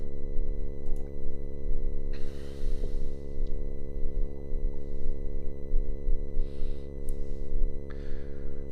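An Intellijel Multigrain module sustains a constant harmonic-rich synth drone with a gentle pulsing flutter. A few soft breathy noise bursts and clicks drift over it.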